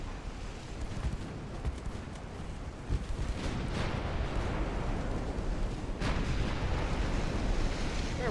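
Naval big-gun fire and shell hits in the warship battle game Ultimate Admiral: Dreadnoughts, a dense, continuous rumble of booming artillery with sharper impacts near three and six seconds, loud throughout.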